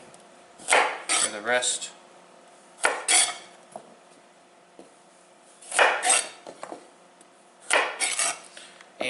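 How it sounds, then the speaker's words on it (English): A knife rock-chops carrots on a wooden cutting board in short bursts of quick, close tapping knocks separated by pauses, with faint background hum. "hold the carrot, rock chop on this carrot, come around to the other side, rock chop that"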